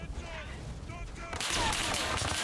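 Gunfire in Arma Reforger on PS5 during a fight against the Vietcong, quick bursts under a voice at first, then a dense, loud barrage of shots filling the second half.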